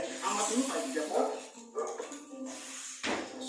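Small dog yipping and whimpering in a few short bursts indoors, fairly faint, with a person talking throughout.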